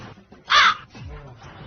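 A single brief crow caw rings out loud and close amid faint background sounds and low murmuring, with no clear speech over it.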